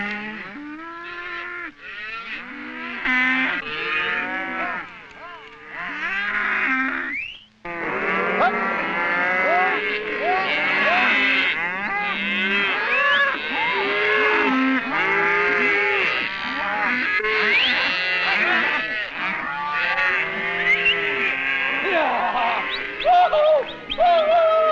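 Cattle on the open range of the Arizona Strip, a cow and her calf, moo loudly and nearly without pause, long overlapping calls from several animals close by, with no talking.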